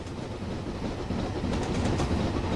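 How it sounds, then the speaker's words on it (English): A passenger train in the video game Train Simulator 2016 rumbles past in a steady, loud wash of rolling noise with faint clickety-clack of wheels, continuous throughout. "It's another passenger train."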